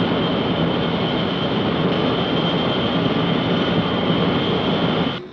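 Propeller aircraft engine drones steadily in flight, a loud, constant roar with a sustained tonal hum that holds unbroken before cutting off abruptly at the end.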